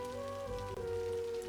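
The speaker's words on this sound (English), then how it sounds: "Oh, the rain is disgusting." Steady rain ambience from the Cities: Skylines city-building game, a continuous even hiss of falling rain with a low hum beneath it, held at a constant level throughout.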